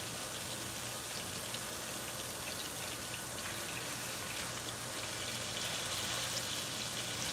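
Grease bubbling and sizzling in a hot frying pan while hamburger steak cooks, a steady, dense crackle running throughout without talk.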